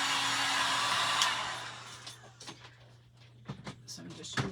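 A hair dryer blows steadily up close while drying white paint on an Easter craft truck, then cuts off, leaving light tapping and handling sounds.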